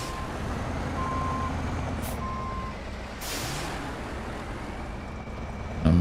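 A heavy truck engine drones and labors while trying to haul a huge trailer in the SnowRunner game, a loud steady rumble with faint beeps and a brief hiss of air over it, no voices.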